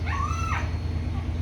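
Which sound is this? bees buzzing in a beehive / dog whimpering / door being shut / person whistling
dog whimpering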